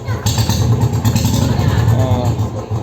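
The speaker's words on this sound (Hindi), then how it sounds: "वो बाइक को चालू करना पड़ा, इसलिए आपको दूध दूध की आवाज़ भी सुनाई दे रही होगी।" A Royal Enfield Standard Bullet 350 motorcycle engine runs close by with a steady, low, pulsing thump that continues throughout.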